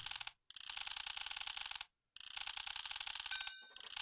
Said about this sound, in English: All you gotta do is just hover this over an item and it starts scanning it.